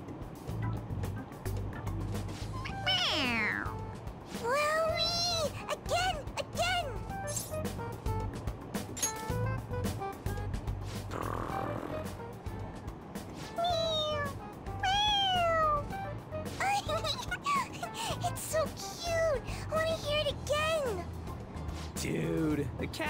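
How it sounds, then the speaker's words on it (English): A toy cat in the video game Persona 5 Royal meowing when pressed on its head, repeated meows scattered throughout over a steady train-like background hum, with speech also present. "It meows when you press on its head."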